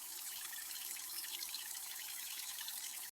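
Steady broadband rush of running water from a shower, continuous and fairly close for about three seconds before cutting off abruptly at the end.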